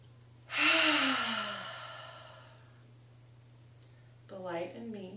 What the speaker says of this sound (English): Let's take one last deep breath together.